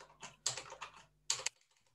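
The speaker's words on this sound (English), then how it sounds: "I'm just typing in what you told me." A computer keyboard clatters in two short bursts of rapid keystrokes, close and fairly loud, with near silence between and after.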